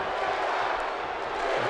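Arena crowd noise from the WWE 2K17 wrestling game during a tag team match, a steady, dense roar of many fans with a mixed reaction, continuous and fairly loud throughout, with no clear individual voices.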